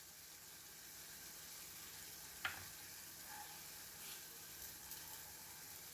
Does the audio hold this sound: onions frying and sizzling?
yes